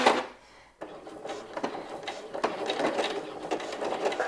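A sewing machine stitches quilt-as-you-go hexagons with a rapid, steady mechanical whirring and clatter, running continuously and close after a brief pause at the start.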